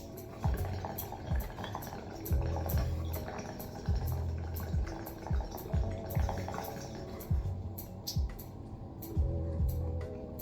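Bong water bubbles and gurgles in repeated pulls while a bowl is smoked, with steady low churning and rhythmic surges through the clip, close and fairly loud, plus light ticking clicks above.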